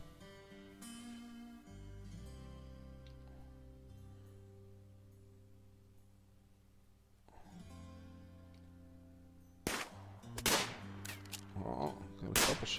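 Gunfire in the colony-building game Rimworld, a burst of sharp, clustered shots near the end over in-game music, fairly loud and rapid.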